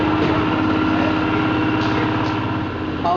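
Rice power thresher engine belonging to a farmer in Karawang, running at a steady, continuous drone close by, loud and unbroken throughout with no talk.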